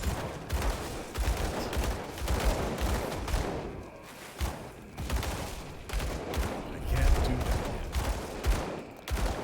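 Dual pistols firing in the action RPG Grim Dawn, rapid bursts of sharp overlapping shots in uneven volleys with brief pauses, loud and close, mixed with impact and combat effects.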